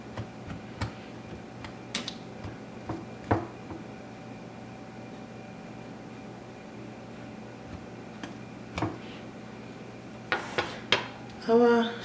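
A fork pricks holes across shortbread cookie dough for strawberry shortbread, giving a series of sparse light taps and scrapes spaced through the stretch, with a small clatter near the end.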